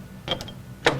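A tap chuck backs out of a freshly tapped 1/4-20 hole in brass branding-iron stock, giving two short metallic ratcheting clicks in a quiet shop.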